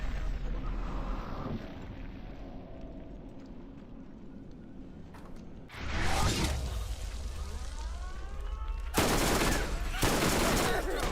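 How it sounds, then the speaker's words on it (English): Bursts of gunfire in the video game Borderlands, a dense crackling volley that starts abruptly midway and swells again near the end, loud over a steady game-ambience bed. "How did all those bullets miss?"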